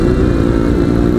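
A 250cc small motorcycle riding alongside big bikes on a road near San Nicolas, Pangasinan, its engine a loud, close, continuous drone throughout.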